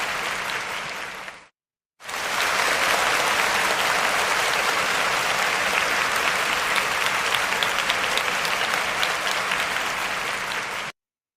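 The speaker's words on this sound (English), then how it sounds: "Let's give her a round of applause." A large crowd claps with loud, dense, continuous applause for about nine seconds after a short opening burst and a brief gap, ending abruptly, played during a commentary show.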